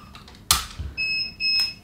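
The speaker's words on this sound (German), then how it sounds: "Jetzt piepst meine Tassenpresse schon, dass sie fertig aufgehitzt hat" A mug heat press signals it has finished heating with two steady electronic beeps, the second following shortly after the first, preceded by a sharp mechanical clack, close and clear with no talk.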